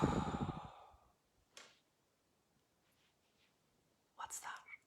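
Someone demonstrates a breathing pattern with a heavy, audible exhale that fades out, followed by a short breath, near silence, and a final quick, breathy inhale-exhale, close and fairly quiet.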